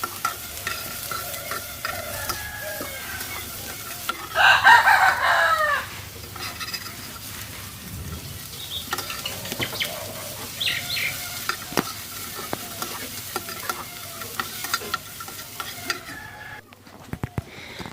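Dried fish wrapped in pumpkin leaves roasts in a dry pan without oil, giving a steady soft sizzle and scraping stirs, with a louder burst of frying noise early on and faint rooster crows in the background.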